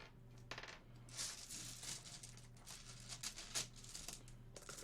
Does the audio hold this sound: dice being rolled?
yes